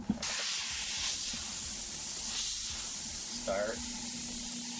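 An airbrush sprays paint in repeated back-and-forth lines, a steady close hiss of compressed air that runs continuously while a voice briefly speaks over it.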